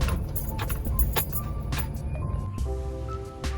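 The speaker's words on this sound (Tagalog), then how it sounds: "naipark na natin ang ating sasakyan" A car moves slowly into a residential backyard with no gate yet, its engine a low steady rumble up close while small metallic clinks and rattles come and go over it.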